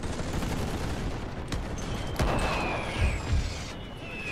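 Infantry gunfire in the war game The Great War, heard as a dense, continuous rattle of massed rifle fire with a few sharper, heavier bangs breaking through.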